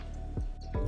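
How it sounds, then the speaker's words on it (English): Green beans dropped into a pot of boiling water for blanching, two soft close plops about a third of a second apart over a low bubbling hum. "I'm just gonna start blanching my green beans in batches"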